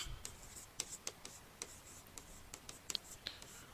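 Chalk or marker tapping and scratching on a classroom board during a geography lesson, a series of short, sharp ticks and light strokes in an irregular rhythm, fairly quiet and close, with no talk over them.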